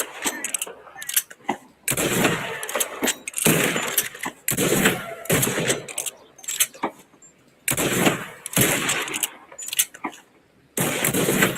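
Video game gunshots fire at flying birds in a series of loud, broadband blasts that come in irregular bursts separated by brief gaps, with voices faintly mixed in.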